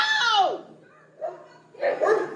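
Dog barking in a tense street confrontation, one sharp bark, then two more muffled bursts, close and loud amid a noisy scene.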